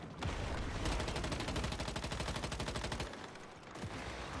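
A Gatling gun fires in the survival shooter Once Human, a loud, rapid, continuous stream of shots that runs for several seconds, breaks off briefly, then resumes.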